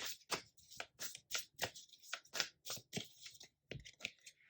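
Tarot cards are shuffled and drawn by hand, close and soft, as a steady series of about a dozen crisp riffling swipes in an even rhythm.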